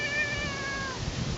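A ragdoll cat named Charlie lets out a single drawn-out, whiny meow close to the listener, falling slightly in pitch before trailing off into quiet room noise.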